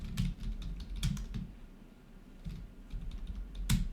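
Rapid clicking keystrokes on a computer keyboard as a file name is typed, close and steady with brief pauses between bursts, no voices.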